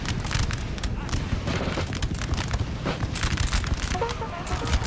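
Massed musket volleys crackle in Napoleon: Total War, a dense continuous rattle of firearms with booming reports throughout, loud and unbroken.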